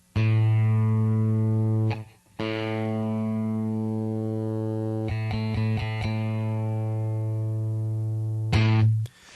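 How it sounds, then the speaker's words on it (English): A single sustained open A note on a guitar's fifth string rings out, struck again a few times, with a brief break and soft muted picks, clean and close. "I'll give you a 5th string open A here for tuning"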